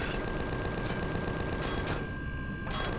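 Gunfire in Empyrion Galactic Survival, shooting at an enemy in an abandoned mine: rapid, continuous automatic shots forming a steady rattling stream, briefly thinning near the end before resuming.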